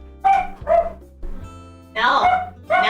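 A dog barks nearby in a quick series of sharp, loud barks, several in about three seconds, with steady background music underneath.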